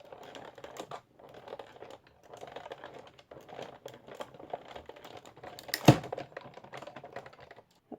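A hand-cranked die-cutting machine pulling cardstock, a metal die and an added shim through its rollers, giving a close, uneven grinding crackle under strain, with a sharp louder crunch near the end.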